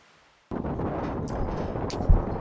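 A .22 rifle fires at an outdoor shooting range: one abrupt crack breaks a near-silence, then steady wind rumble buffets the microphone and a brief low thump follows near the end.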